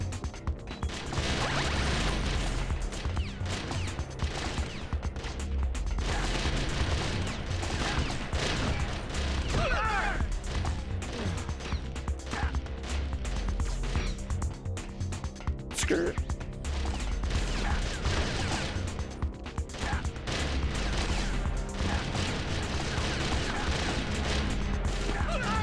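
Gunfire and crashing action in the video game Metal Gear Solid: The Twin Snakes, a dense, continuous barrage of shots and impacts with game music or noise underneath, steady and loud throughout.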